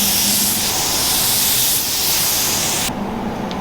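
Spray gun laying down a coat of Peterbilt primer on an off-road recovery Jeep: a steady, loud broadband hiss running continuously, cutting off near the end to a quieter background.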